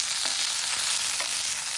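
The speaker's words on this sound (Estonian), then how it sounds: "Praeme kergelt ära." Onion sizzling as it fries in a pan, a steady close-up hiss of hot oil with a few soft stirring scrapes and no talking.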